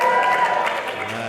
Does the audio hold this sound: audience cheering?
yes